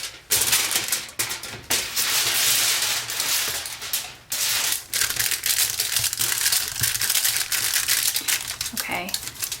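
Aluminum foil is pressed and crinkled over a cover and into its divots, producing loud close crackling bursts with brief pauses, while a person talks intermittently.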